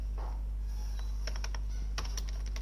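Quick bursts of keystrokes on a computer keyboard, a few isolated taps followed by a denser run of clicks, close and fairly faint over a steady low hum.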